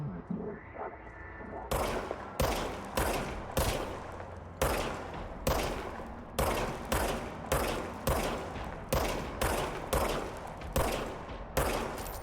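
Rapid bursts of video game gunfire, loud repeated shots in a steady rhythm with short gaps between volleys over a rumbling background.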